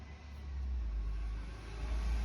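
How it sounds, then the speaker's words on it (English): A garbage truck passes outside, heard as a steady low engine rumble that swells slightly and holds at moderate distance, with no talking over it. "There goes the garbage truck."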